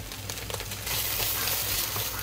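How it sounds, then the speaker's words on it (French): Minced onion and tomato paste frying in a pan for vodka pasta, a soft steady sizzle that swells partway through, close and moderately quiet, with faint stirring scrapes and no voices. "J'ai émincé l'oignon et je vais le rajouter. Donc voilà, je vais le laisser un petit peu dorer."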